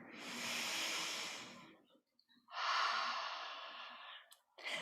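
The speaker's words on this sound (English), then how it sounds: "One more big breath like this" A deep yoga breath drawn in and let out, two long, airy breathy swells close to the microphone with a short silent pause between them, and a third breath just beginning at the end.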